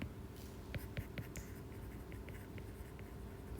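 Quiet, irregular taps and scratches of marker or chalk writing on a board during a mechanics of materials class, faint, close and scattered over low room hum with no speech.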